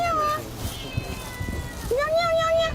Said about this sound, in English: Several stray cats appear from everywhere to enjoy the food she has brought them.